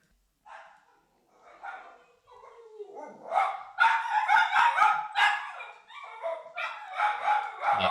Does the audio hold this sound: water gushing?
no